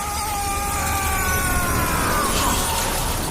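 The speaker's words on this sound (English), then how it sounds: "he's going to push him right through the glass" Glass shatters as a man is pushed through a window in the Call of Duty video game, a loud, dense crash of breaking glass that fills the whole moment with a steady, noisy wash.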